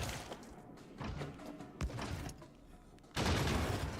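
Turrets in Factorio fire rapid bursts of gunfire, clattering volleys and thuds that swell and fade, ending in a louder sustained barrage.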